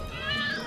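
A cat's meow, a single drawn-out wavering cry heard close over a steady background hum.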